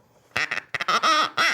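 A duck call is blown in a quick series of sharp, nasal quacks: a short double note, a brief pause, then several louder, drawn-out quacks, close and clear with nothing behind them.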